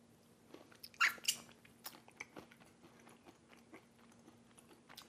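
Homemade granola is chewed while being tasted, with a few sharp crunchy bites near the start followed by softer, irregular chewing crunches against a quiet background.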